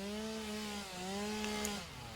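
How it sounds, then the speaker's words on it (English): A chainsaw in Satisfactory Update 6 clears mycelia, a steady droning motor tone that dips briefly and then resumes, close and continuous. "That's a nice thing about the chainsaw."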